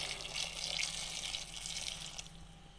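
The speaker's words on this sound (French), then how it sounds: "je vais rajouter un peu d'eau." Water, preferably hot, pouring into a pot of dried fava beans being prepared for charmoula sauce, a soft steady splashing stream at moderate level with no talking.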